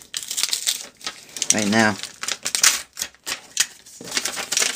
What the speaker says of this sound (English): I'm cutting it out so that I have a smaller piece of paper to deal with